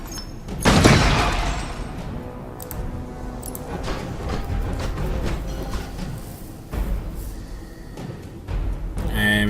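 Gunfire from a Space Hulk video game: a loud burst of shots near the start, then continued crackling fire with scattered sharp reports.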